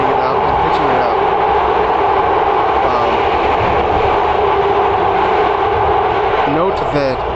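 Loud, continuous rumble of a BART train running through the Transbay tube, heard from inside the car, with a steady roar, a brief squeal near the end, and a voice faintly mixed in.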